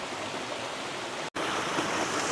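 Mountain stream in Tajikistan, a steady broadband rush of flowing water heard close and alone, with one brief cut in the middle.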